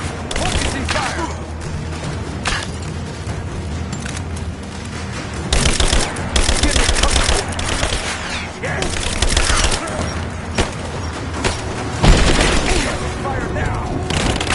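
Enemy gunfire in Rise of the Tomb Raider: dense, overlapping automatic and single shots that keep cracking and thudding for several seconds, loud and close, with a voice shouting commands over the fighting.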